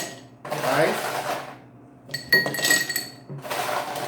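Ice drops into a cocktail glass at a home bar, giving a burst of bright clinks and rattles between stretches of other handling noise.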